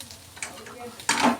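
Grated coconut frying in a pan gives soft scraping stir sounds, then a louder burst of sizzling and spatula scraping toward the end.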